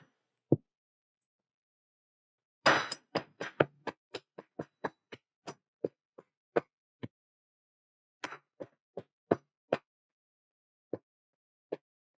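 Repeated sharp hammer blows on a pane of tempered glass, starting with one lone knock, then a fast burst of clustered strikes thinning into evenly spaced taps, another quick cluster, and two final isolated hits, loud and close with silence between.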